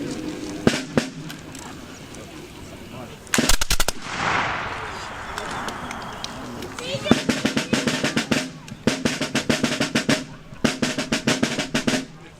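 Musket volleys fired by 2nd SC Regiment reenactors at Stono Ferry: sharp crackling bursts of overlapping shots that come in clustered rolls, separated by a hissing lull, then a long rapid string of loud reports close by.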